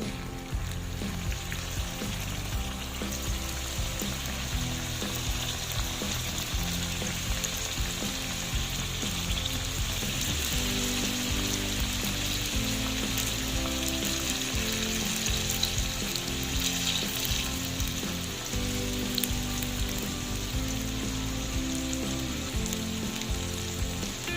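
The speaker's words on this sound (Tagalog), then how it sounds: "magpiprito na tayo. So yan guys, pwede na tayong maglalagay guys, mainit na yung oil." Banana turon made with lakatan bananas frying in hot oil, a dense, steady sizzle that runs close and continuous throughout with faint bubbling beneath.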